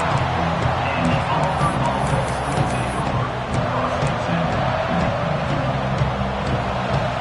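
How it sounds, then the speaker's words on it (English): A loud, dense roar of a large stadium crowd at an American football game fills the space continuously, a broad wash of noise without distinct voices. "listen to this crowd noise"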